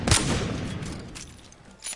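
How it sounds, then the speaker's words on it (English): A Wingman pistol in Apex Legends fires a loud sharp shot at the start, its boom decaying over the next second, with a faint second report near the end. "we're going to go ahead and shoot"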